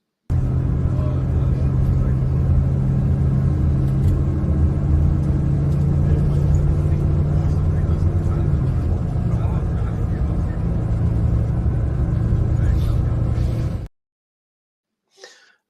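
Inside an airport bus heading to Jomtien, Thailand, a steady loud engine rumble and road drone fill the cabin for about fourteen seconds, then cut off abruptly.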